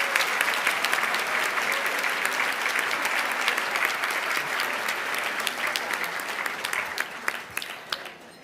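Sustained audience applause at the 2014 Women of Achievement live event in honor of its sponsors, a dense, steady clapping from a large crowd that continues evenly throughout and thins slightly toward the end.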